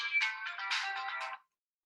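A phone ringtone chimes loudly and alone for about a second and a half of a work meeting call, as a bright, steady electronic melody, then it cuts off into silence.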